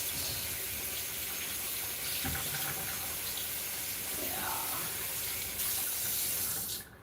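A kitchen tap runs in a steady, close gush as an item is rinsed again beneath it, the flow shifting briefly as it is moved under the stream, with no talk over the water.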